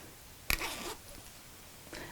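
Zipper slider pulled along a zip on a sewn make-up organizer, a quick close rasping zip followed by a shorter, fainter second pull after a pause.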